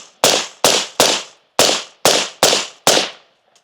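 A suppressed rifle fires a full magazine, seven sharp reports spaced about half a second apart, loud and close, each one followed by a short decaying tail and no talking between shots.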